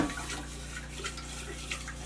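Hand-washing a greasy butter jar in hard water, a faint continuous swish and trickle of water at low level with small splashes.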